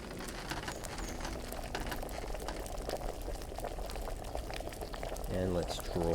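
A potion bubbles and boils during brewing in Kingdom Come: Deliverance, a steady soft simmering hiss with scattered pops, a few brief louder gurgles near the end.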